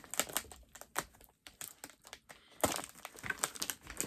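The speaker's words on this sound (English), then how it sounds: "I'm just destroying the box at the moment." A well-taped cardboard box being torn open and destroyed, with faint, quick crinkling, crumpling and tearing in irregular bursts that swell to a louder flurry near the end.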